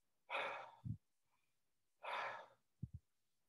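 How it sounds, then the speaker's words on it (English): Two deliberate deep breaths, each a long airy inhale or sigh followed by a short double puff, close and clear against silence. "I used to think that a deep breath was here"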